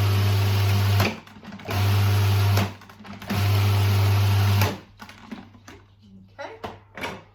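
A blender pulses a quarter cup of flaxseed in three loud, steady bursts of motor whir, each about a second long with short gaps, followed by quieter clattering and handling noises.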